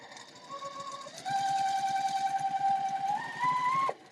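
A sewing machine runs in steady rapid stitching bursts with a whirring motor whine that shifts pitch as speed changes, close and continuous before stopping abruptly.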